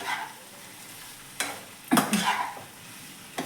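Aloo methi curry of potatoes and fenugreek leaves stirred in a pan, a steady frying sizzle broken by a few scraping strokes of the spoon against the metal.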